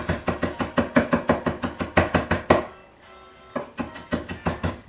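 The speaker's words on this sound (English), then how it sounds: "You want to chop this real fine." A kitchen knife chops fresh herbs finely on a cutting board in a rapid, steady run of sharp, close taps, pausing briefly before the rhythm resumes.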